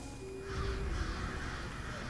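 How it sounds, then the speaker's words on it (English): A swarm of crows in Elder Scrolls Online caws around the player, harsh overlapping calls over a steady game ambience, close and moderately loud. "I have a swarm of crows around me"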